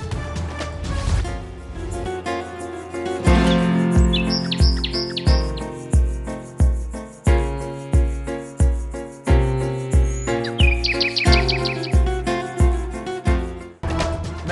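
Small birds released from cages chirp in high, quick tweets scattered over loud, rhythmic music that dominates the mix.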